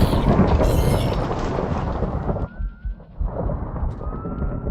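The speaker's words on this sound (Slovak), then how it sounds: "Tam byl blesk." Thunder from lightning in a horror-themed Minecraft world, a loud rumbling roll that fades into a brief quieter gap before the low rumble returns.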